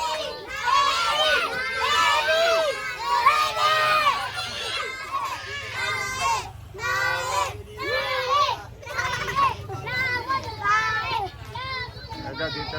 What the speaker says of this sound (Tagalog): Ang ingay ng mga bata.